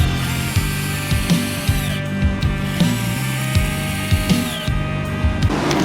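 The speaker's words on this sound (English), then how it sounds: "Let's see how quickly these 12 volt drills can drill 6 1 5/8 inch wood screws into our 4x6" Cordless 12 volt drills drive wood screws into a 4x6, a loud continuous motor whine with repeated clicking and thumping as screws seat one after another, close and steady.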